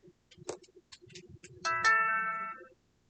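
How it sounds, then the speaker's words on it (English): A mobile phone rings nearby during a crochet lesson, a short tonal ringtone burst lasting about a second, preceded by soft ticking and handling noises, fairly quiet. "Of course, there goes my phone."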